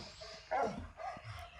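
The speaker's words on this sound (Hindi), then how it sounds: "कुत्ते के बच्चा शिकारियों को देख लेता है और भौंकते हुए तेजी से शेरनी के पास जाने लगता है" A young puppy gives a single sharp, yelping bark, followed by a softer second yip, fairly close against a quiet background.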